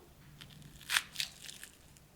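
A crispy fried anarsa, a semolina sweet, is snapped apart by hand, giving a few sharp crunchy cracks and crackles in quick succession over near silence.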